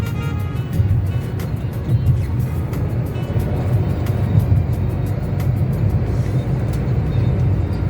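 A car drives along a road on a trip between Jaipur and Rishikesh, heard from inside as a steady low rumble of engine and tyres with light rattles, no talking.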